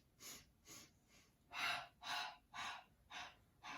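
Rhythmic breathing during the Pilates hundred exercise: eight soft, evenly spaced breath bursts, the later ones louder and fuller, close to the microphone with no talking.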